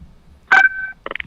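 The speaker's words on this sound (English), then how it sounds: "We got a phone call." An incoming phone call sounds as a short electronic tone: one sustained beep followed by a quick cluster of chirps, loud and close, over a faint background hum.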